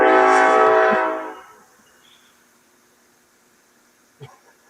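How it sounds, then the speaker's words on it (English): A train roars past loudly with its horn blaring, then the sound fades away quickly into near silence, leaving only a few faint distant knocks. "your train's coming"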